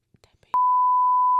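A censor beep bleeping out a spoken word: brief clipped speech fragments, then a loud, pure, steady tone sounds abruptly and holds unbroken for about a second.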